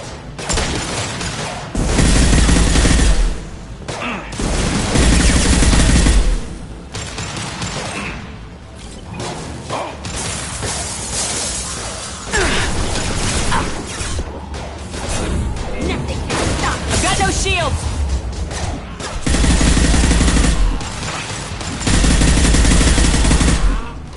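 Bursts of enemy gunfire ring out in the sci-fi shooter Mass Effect 2, loud automatic fire and impacts coming in repeated heavy volleys separated by brief lulls, with occasional crashes and game effects mixed in.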